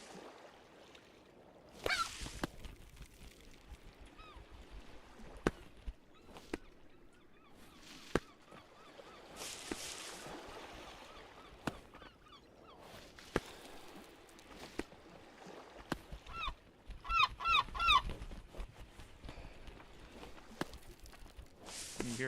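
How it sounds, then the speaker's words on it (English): Repeated goose honks from a video game, the warning call before a bird attacks, sounding in scattered bursts with a dense cluster near the end over quiet ambience, mixed with soft footsteps and clicks. "When you hear that particular call, it means a bird's about to attack you."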